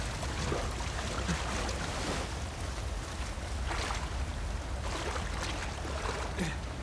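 Strong water current in Uncharted 4, a steady loud rush of churning water with a windy roar and surging swells, continuous throughout.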